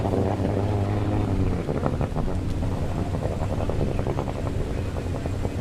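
Personal watercraft engines roar to life together at the start of a Pro Watercross World Championship race, a loud, dense, continuous drone with a steady tone at first that turns into rough, churning noise.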